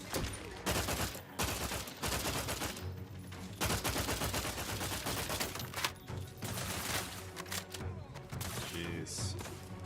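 Dense rifle gunfire in The Outer Worlds 2 video game, with rapid bursts of loud shots and short pauses between volleys over about ten seconds, plus faint game ambience underneath.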